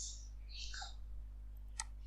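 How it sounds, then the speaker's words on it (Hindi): A single sharp computer mouse click lands near the end over a quiet, steady electrical hum, with a few faint soft background sounds before it. "मैं रील पे क्लिक करता हूँ।"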